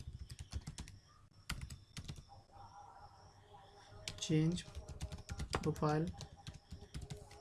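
Computer keyboard typing while coding a Laravel 8 and Bootstrap 5 user profile page, fast irregular clicks and clacks running throughout, close and clear, with someone speaking over part of it.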